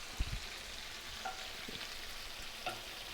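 Cognac poured into a hot pan after cooking chicken, giving a steady low sizzle and frying hiss with a few soft stirring clicks, close and moderately quiet, with no talking.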